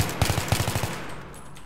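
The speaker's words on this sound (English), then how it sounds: "So when I tend to burst fire, I tend to burst fire like this. I let off 1 or 2 rounds" A rifle fires in bursts in the video game Battlefield 3, with two quick sharp volleys of several rapid shots, each followed by a short fading tail.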